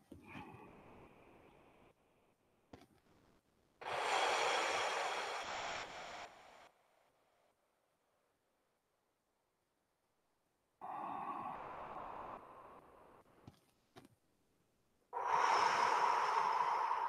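Deep nasal inhales and long exhales during a Yang-style 24-form tai chi class, three loud close-miked breath cycles separated by near silence, with no talking.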